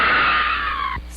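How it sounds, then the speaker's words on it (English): A scream sound effect plays right after a joke, one loud, sustained, shrill cry lasting about a second before cutting off abruptly. "That scream is our listeners at that joke"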